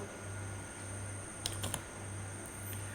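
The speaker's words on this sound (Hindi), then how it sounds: "एक बार एंटर कर दिया आपने इसके अंदर नाम" A name typed on a computer keyboard in a library management program: a short burst of light key clicks in the middle, faint against a steady electrical hum.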